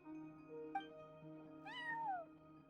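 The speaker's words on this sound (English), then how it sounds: "No one except for a cat watching over the front desk." A cat meows once in a video game, a clear rising and falling call heard alone over a steady low musical hum in the background.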